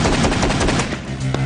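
An AA-12 shotgun fires fully automatic in a rapid, loud, close burst of blasts that blur into a continuous rattle, with a few distinct final reports trailing off at the end.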